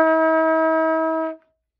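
A single sustained trumpet note F, clear and steady with rich harmonics, held for just over a second before a clean cutoff and silence.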